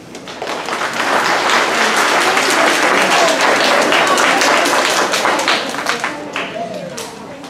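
Loud, sustained applause from a school audience welcoming a presenter at a STEM event, dense clapping that swells for several seconds and then tapers off near the end.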